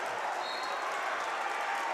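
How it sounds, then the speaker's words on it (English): A home crowd at a high school basketball game roars in a steady, dense wash of cheering and noise filling the gym, with no breaks. "The crowd letting the Mustangs hear it as they protect home court"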